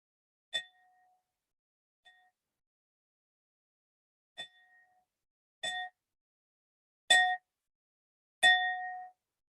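A glass cup is struck six times at uneven intervals, each strike a clear bright ring that decays quickly, the later ones louder and longer, heard alone in silence.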